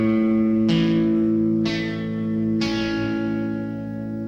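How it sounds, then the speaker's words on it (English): The open A string of an electric guitar, plucked three times at an even pace, each note ringing out clearly and decaying over a steady sustained tone. "And you've also got the open A string, which is the 5th string."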